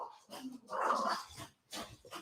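A dog growls and snarls in low, rough bursts at close range, the rumbling rising and breaking off in short spells with brief gaps between them.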